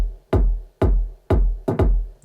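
Four deep techno kick drums hit in a steady rhythm, each booming thump trailing off in a long reverberant tail, loud and alone with no voices.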